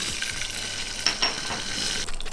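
Mustard seeds, cumin seeds and fresh curry leaves sizzle steadily in hot oil for a peanut chutney tempering, a constant bright hiss with a few sharp crackles and pops near the middle.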